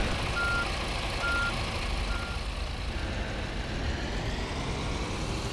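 A VDL Futura FDD2 double-decker bus in Fernbus Simulator sounds faint, evenly spaced reversing beeps over a steady engine rumble and road hiss, with no voices.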